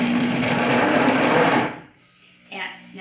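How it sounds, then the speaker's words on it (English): A heated cooking blender purees cauliflower with a loud, steady motor whir for about a second and a half, then cuts out, leaving a voice speaking in the quiet that follows. "this is a cooking blender. This actually has a heating element."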